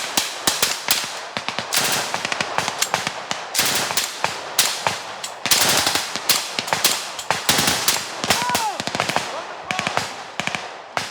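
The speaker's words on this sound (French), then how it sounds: "Après quelques minutes de tir nourri" Sustained bursts of automatic gunfire from legionnaires in the Amazon forest, loud and close, with rapid repeated cracks crowding together over several seconds and brief gaps between volleys.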